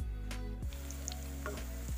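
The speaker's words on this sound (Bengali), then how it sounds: "দুই পাশ খুব ভালোভাবে ভেজে নিতে হবে।" Cauliflower pakoras sizzle steadily in hot frying oil, a close, continuous crackling hiss with a few soft clinks and stirring sounds, no voices.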